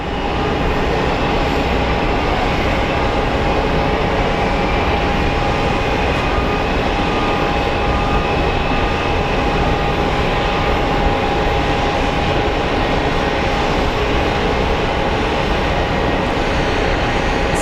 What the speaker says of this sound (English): Smooth landing.